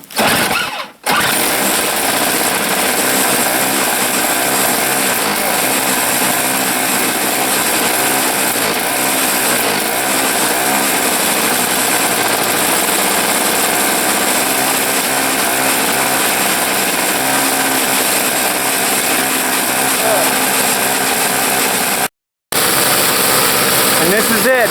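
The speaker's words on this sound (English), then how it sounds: "I'm going to get the snowblower going and widen the path to the tent" A snowblower engine runs steadily at an off-grid homestead after heavy snow, a loud continuous droning whine close by with only a brief cutout near the end.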